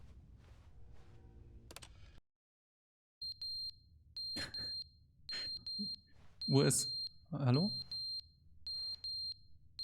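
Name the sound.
smoke detector alarm beeping in The Stanley Parable video game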